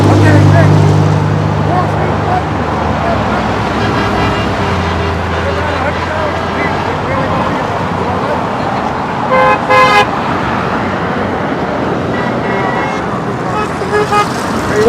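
Road traffic rumbles steadily throughout, with a horn toot near the middle and voices talking over the continuous vehicle noise.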